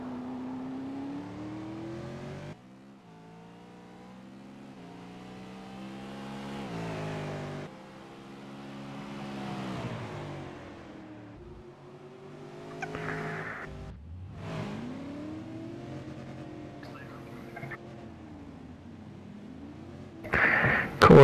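A V8 Supercar on a qualifying lap at Sonoma, its engine howling up and down through the gears with steady pitch sweeps, fading lower then surging loud again near the end.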